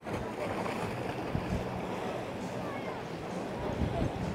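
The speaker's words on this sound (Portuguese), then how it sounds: "Tá bem agitado o mar hoje, hein?" Rough sea waves crash and wash along the Crete coast at Chania, a steady, loud roar of surf with wind buffeting the microphone throughout.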